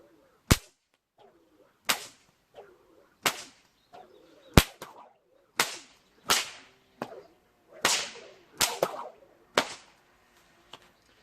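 A small three-foot snake whip with a long cracker holding a knot cracks about ten times at an uneven pace, each crack a sharp, loud, close snap followed by a brief swish.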